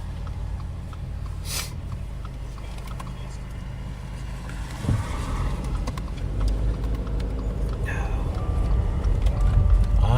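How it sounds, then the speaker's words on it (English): A car approaches and passes on a rural road in northwest Illinois during a storm chase, a low steady engine and tire rumble that swells louder toward the end, heard from inside a vehicle with a muffled thump midway. "There's a car coming"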